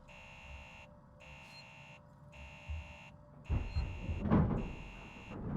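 A steady electronic alarm drones on in the Alien Isolation video game, with repeating high tones that cut off in short gaps, and then heavier low rumbling and clatter come in under it.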